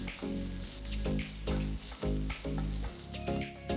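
Curry leaves and ginger garlic paste sizzling in a pan with fried onions, a close frying hiss broken by repeated scraping stir strokes in a steady rhythm, with no talking.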